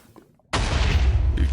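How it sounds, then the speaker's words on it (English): Blocky explosions go off in a modded Minecraft world, where a quiet lull gives way to a sudden loud, sustained roar of blasts that continues to the end. "continuing the explosions"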